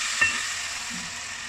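Enoki mushrooms sizzle steadily in a hot frying pan after a mixing sauce is poured in, a constant bright hiss with a brief clink of stirring near the start.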